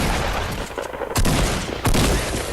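Two loud shotgun blasts from a pump shotgun in the Fortnite battle royale game, sharp booming shots about a second apart over dense, noisy in-game action with no talk.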